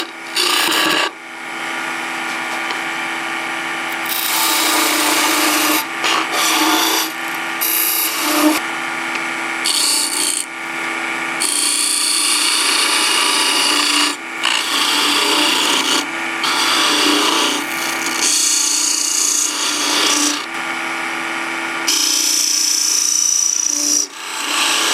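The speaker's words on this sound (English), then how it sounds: "I'm going to stick the corner of the tool in at an angle, and I'm just going to make a parting cut" A bedan parting tool cuts into spinning wood on a lathe, producing a continuous harsh scraping rasp with brief pauses and shifts in pitch, loud and close with no voices.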